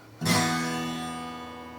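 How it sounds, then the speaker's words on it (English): A strummed chord rings out on an acoustic guitar whose strings buzz against the frets. It begins with a sharp attack, then sustains and slowly decays on its own. "If your acoustic guitar sounds like this,"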